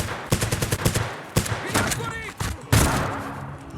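Rapid bursts of video game gunfire crack out in sharp clusters during a Zero Hour match, with several loud single shots and quick volleys spread across the moment, while a voice talks over parts of it.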